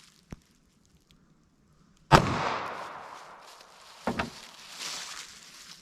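A .380 ACP pocket pistol fires a Federal Hydra-Shok round into clear ballistics gel: one sharp, loud, close shot after a faint click, followed by echoing decay and a couple of smaller knocks.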